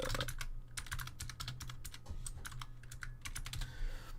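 Rapid typing on a computer keyboard with a non-working U key, close and crisp, irregular bursts of clicks with short pauses, no voices.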